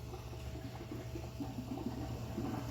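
An RV macerator pump draining blackwater sewage through a hose into an IBC tote, a faint steady low hum with soft gurgling liquid running alone and close.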